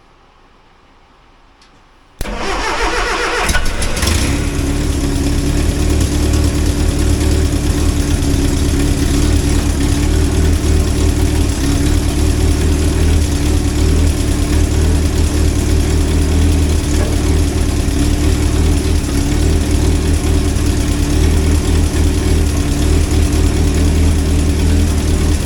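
The engine of a 1963 Hillman Super Minx catches after a brief quiet start and then idles steadily and loudly at close range, with a continuous low rumble throughout.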